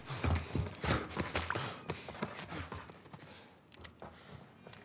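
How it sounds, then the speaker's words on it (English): Footsteps in The Last of Us Remake video game, a run of clip-clopping steps at a steady walking pace with sharp transients, loudest at the start and fading slightly, amid background game ambience. "I hear footsteps."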